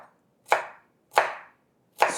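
A knife slices small onions into strips on a cutting board in three sharp, evenly spaced chops, each a crisp close thud with a short fading tail and silence between.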